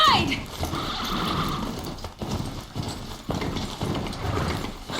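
Galloping of a Strider machine mount in the video game Horizon Zero Dawn, a steady rapid hoofbeat clatter with a whinny at the start, running continuously under game music and ambience.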